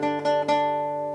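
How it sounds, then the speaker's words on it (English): Acoustic guitar playing a D on the 3rd fret of the B string, three quick plucked repetitions of the same note ringing clearly, the last one sustaining and fading. "The last three Ds are actually this D here on the 3rd fret of the B string, so it would sound like this."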